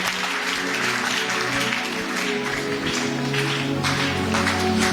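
A church congregation applauding to acclaim the Lord, sustained dense clapping from a large crowd with organ or keyboard tones and faint voices mixed beneath.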